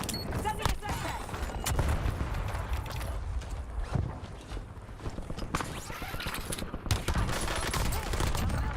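Gunfire from the battle royale shooter Warzone: repeated rapid bursts and single shots crackle through the mix, some close and sharp, others distant, over continuous game ambience with footsteps and mechanical clatter.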